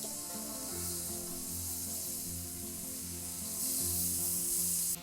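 Calamari and prawns frying in a hot pan with oil for a seafood salad: a steady, close hiss and crackle that runs unbroken and swells louder near the end.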